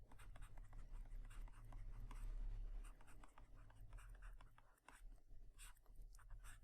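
Quiet scratching of handwriting on a board or paper during a physics lecture, short strokes coming in irregular bursts over a low steady hum, close and faint.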